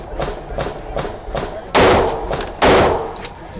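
Pistol shots from a Rock Island Armory M1911 A1 10mm, two loud, sharp, close reports about a second apart, preceded by a steady rhythm of softer, more distant gunfire at a range.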